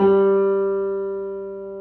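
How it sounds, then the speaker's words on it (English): A single sustained piano note G rings out clearly and slowly fades, with no other sound around it. "G on the piano."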